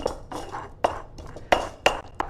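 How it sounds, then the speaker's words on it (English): Stone pestle grinding ingredients against a stone mortar while making arroz a la tumbada, giving a series of close, sharp clinking knocks and scraping crunches at an uneven rhythm. "what I'm doing is rock against rock here, and that gives me a kind of crushing"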